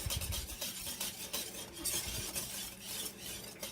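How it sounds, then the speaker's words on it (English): Pumpkin bread batter with eggs is stirred in a bowl, giving a continuous close, soft scraping and swishing with a quiet thud now and then. "So I'm going to mix all of that up really good here."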